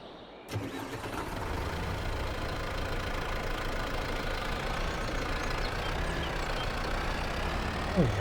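A tractor in Farming Simulator 22 cranks over and fires up after a brief quiet moment, then settles into a steady, loud, rumbling idle that runs on without any talk.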